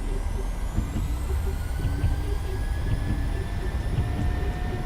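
Airliner engines roar at takeoff thrust on a PMDG 737-8 in Microsoft Flight Simulator 2020, a steady, loud broadband rumble with a faint high whine that holds without a break.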